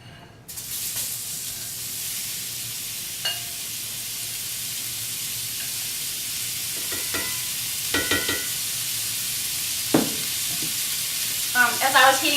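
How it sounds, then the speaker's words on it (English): Ahi tuna sears in a hot pan of grapeseed oil, a steady loud sizzle and hiss that runs throughout, with a few scraping clatters and crackling bursts near the end. "I'm going to just barely stick it in here enough to just kind of sear it"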